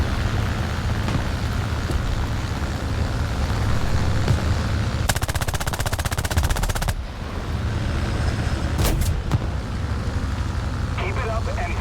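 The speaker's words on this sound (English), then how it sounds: "Oh no, they're shooting at me." Rapid machine-gun fire rattles at a tank in War Thunder, a dense burst of shots standing out over a steady roar of engine and battle noise, with a few later sharp cracks.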